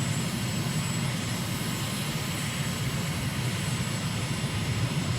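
A simulated aircraft engine drones steadily in Microsoft Flight Simulator, a constant, even hum that holds unchanged throughout with no voices over it.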